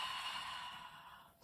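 Slow, steady breath drawn in and let out during a lying-down Pilates abdominal exercise, a soft airy hiss held close to the mic that fades near the end.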